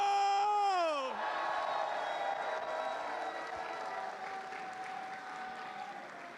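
A large esports watch-party crowd roars and applauds for a player introduction, with a loud screaming cheer at first that settles into sustained clapping and whooping, slowly fading.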